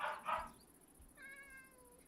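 A Minecraft ocelot gives a short faint meow after a couple of soft thumps, heard quietly against a steady high-pitched background whine.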